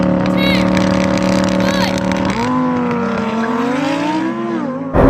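Engines roar as a Lamborghini Performante, a 700hp Nissan GT-R and a Porsche Cayenne Turbo GT launch in a drag race, loud and close, with pitch climbing through gear changes.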